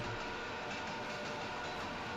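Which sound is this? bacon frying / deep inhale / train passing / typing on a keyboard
train passing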